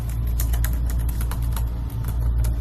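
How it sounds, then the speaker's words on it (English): Rapid, irregular clicking of keys on a computer keyboard, close and steady with short bursts, no talking. "I'm going to do a little typing here"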